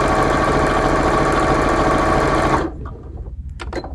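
A sewing machine runs at a steady, fast, buzzing pace while stitching a narrow channel for homemade chenille, then stops suddenly and is followed by a few faint clicks and handling sounds.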